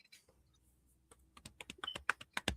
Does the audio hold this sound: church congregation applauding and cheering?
no